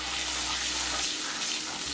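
Half a cup of water pours steadily into a snack mixture in a home kitchen, a continuous close splashing and trickling stream with no talk.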